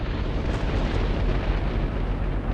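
A large explosion in the fantasy strategy game Battle for Wesnoth, a loud sustained roaring blast with a dense low rumble that fills the moment and carries no speech.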